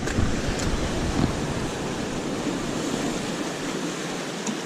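Steady ocean surf breaking on a beach where sea bass are fished from the shore, a continuous broadband wash with a few swells of louder crashing, no voices.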